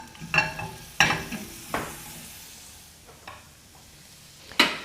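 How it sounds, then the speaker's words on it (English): Corn sautéing in browning butter in a pan, a soft steady sizzle broken by several sharp clinks and scrapes of stirring, close and fairly quiet. "saute them in brown butter"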